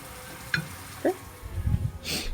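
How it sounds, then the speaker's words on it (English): Cranberries cook in a pan with cornstarch, and two or three sharp little pops spaced about half a second apart rise over a soft simmer, then some rustling handling noise and a hissy burst at the end. "So listen for the pop, pop, pop of the cranberry"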